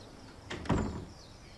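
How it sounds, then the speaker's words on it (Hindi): Door swinging open indoors in a home, a short sliding scrape followed by a soft thud, fairly close and alone with no talk. "दरवाजा खुल चुका है, अंदर आइए।"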